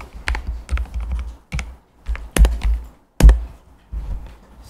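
Keys are typed on a computer keyboard in short rapid clusters with brief pauses between them. The clacks are close, loud and crisp, with a few heavier strokes standing out and no talking.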